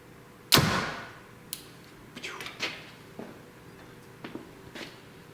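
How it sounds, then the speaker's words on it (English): A 2021 Hoyt Ventum 30 compound bow looses an arrow with one sharp, close thwack that rings briefly, followed by quieter clicks and knocks nearby. "I just want to shoot a couple arrows through it"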